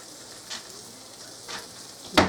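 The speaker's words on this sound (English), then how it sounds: "it's supposed to sizzle" Amish poor man's steak patties sizzling in a pan, a steady soft frying hiss with a few brief louder bursts and a sharp clatter near the end.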